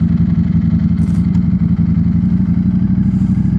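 Ducati Streetfighter V4 motorcycle engine running while riding, a loud, close, steady low rumble with rhythmic pulsing and faint clatter throughout.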